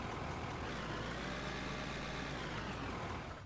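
A vehicle engine idles in the Out of Ore mining game, a steady low rumble that holds evenly with no talk over it and eases slightly at the very end.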